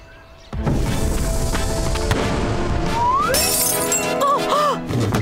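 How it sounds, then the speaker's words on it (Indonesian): A cartoon glass window shatters after a kicked soccer ball strikes it at school, a sudden bright crash followed by a sustained tinkling spray of shards and comic whistling sound effects, loud and close. "Aku tadi menendang bola dan memecahkan kaca"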